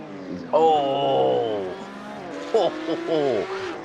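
A race car in a sim racing game at the Nürburgring slides as the rear steps out, its engine note rising and falling with tires squealing and skidding, loud and close, while a commentator talks over it.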